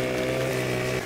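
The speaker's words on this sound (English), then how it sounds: "start your chainsaw, and run" A chainsaw runs steadily in Farming Simulator 2015 during modded logging, a continuous droning engine buzz with a strong hum held level and loud for the whole second, with no pauses or voices.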